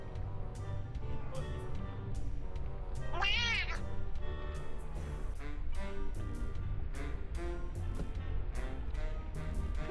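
A pet cat gives a single clear, rising-and-falling meow at mid distance, heard over steady background game music in a room.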